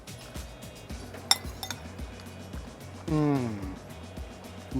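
Glasses clink once in a toast at a griddle cookout, a sharp bright tap with a faint second ring, set among casual talk from two men.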